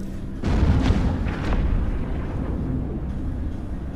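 Battleship explosions in the space game EVE Echoes, a deep booming blast that swells into a sustained low rumble with scattered crackling detonations layered over it, loud and continuous with no voices.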